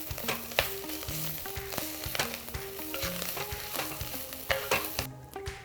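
Baby clams dry roasting in a pan give a continuous close sizzle and crackle with scattered stirring scrapes, steady and fairly loud, without talk.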